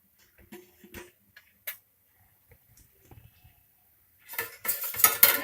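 A kayi holige, a coconut-filled flatbread, turned over on a pan: a few light scattered utensil taps against the pan, then a brief hissing sizzle rising toward the end.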